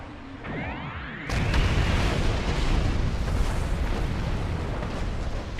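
Video game doomsday weapon firing indiscriminately: after a rising whoosh, a massive roaring wall of explosions and rumbling blasts erupts and sustains, loud and dense, with no talking.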